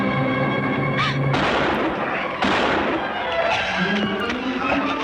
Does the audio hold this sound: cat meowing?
no